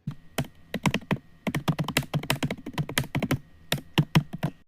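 Rapid typing on a computer keyboard while entering a comment in an HTML editor, a dense run of crisp key clicks in quick bursts with brief pauses, close and clear with no talking.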